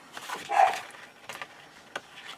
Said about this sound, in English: my dogs are going a little nuts